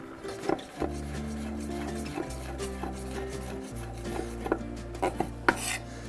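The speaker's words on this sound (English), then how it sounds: "slice the mushrooms" Knife slicing mushrooms on a board in a kitchen: soft, irregular cutting taps over a low steady hum from the stove, no talking.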